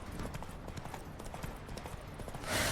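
Horse galloping in The Witcher 3: Wild Hunt, hooves clip-clopping in a steady fast rhythm under a dense, noisy game soundscape, with a brief louder burst at the end.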